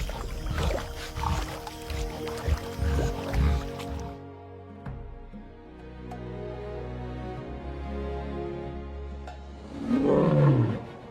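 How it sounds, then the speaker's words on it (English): A lion on the savanna lets out deep roars, loud low rumbling calls early on, then a quieter stretch of low drone before a strong final roar near the end. "the lion's greatest strength is neither tooth nor claw, but sound. Its roar is the voice of the savanna itself."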